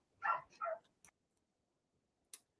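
Two quick dog barks close together near the start, followed by a couple of faint clicks and a short high tick later, with quiet gaps between.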